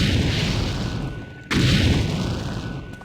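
Trap gunshots in the video game Ghost Thief, inside the Rogues' Lair room: a sharp boom cuts in midway over a steady roaring background with a faint rising whine, fairly loud and close.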